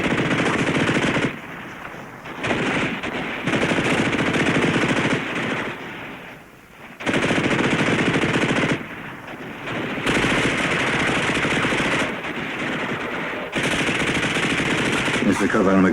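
Sustained machine gun fire in a wartime combat drama, loud dense bursts rattling almost continuously for many seconds with brief gaps between volleys.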